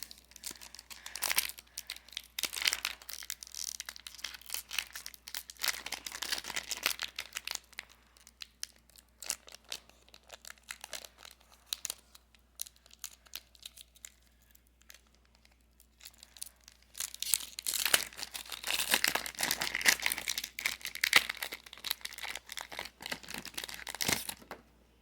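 Foil Pokémon Sword and Shield Rebel Clash booster pack wrappers are torn open and crinkled up close, with bursts of sharp crackling and rustling spread over the whole stretch and short quiet pauses between them.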